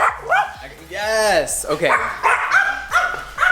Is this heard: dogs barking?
yes